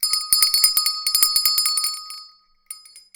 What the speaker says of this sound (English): It's a physical, real bell, and I'm going to ring it right now.